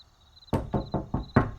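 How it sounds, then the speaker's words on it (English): Five firm knocks on a door, evenly spaced and close, each a solid hollow thud against a quiet background with a faint tonal hum. "I knocked on the door"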